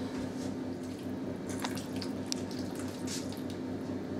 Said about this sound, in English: now Mum's going to add the water